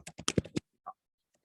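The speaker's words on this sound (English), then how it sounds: "as soon as I start typing" Typing on a computer keyboard: a quick burst of about six close, crisp key clicks, then a short pause and one more isolated tap, clear against otherwise silent surroundings.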